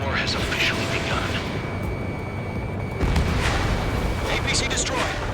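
An armored personnel carrier blows up in the combat flight game Ace Combat 7, a dull explosion burst amid continuous battle noise, gunfire and roaring aircraft, with radio chatter over the top.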